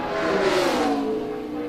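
Denny Hamlin's FedEx No. 11 Toyota Camry NASCAR stock car accelerating through a qualifying lap in 2011, a steady, fairly loud engine drone rising in pitch over under two seconds, heard from a moderate distance without talk.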